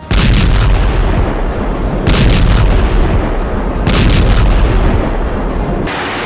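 Heavy booms and blasts from a US airstrike on Yemen, loud and continuous with repeated bursts of rumbling detonations layered over one another, no voices.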